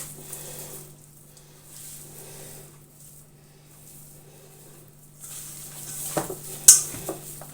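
Pumpkin pie dough being mixed by hand in a bowl, with soft, sticky, wet squelching and kneading sounds, faint and continuous, ending in a couple of sharper knocks against the bowl.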